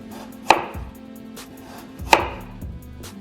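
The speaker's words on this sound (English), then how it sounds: "So when you cut the Kipfler potato, cut a small slice, small piece, and nice thin." Two sharp knife cuts through Kipfler potatoes onto a cutting board, each a crisp close chop followed by a softer clack, spaced about one and a half seconds apart.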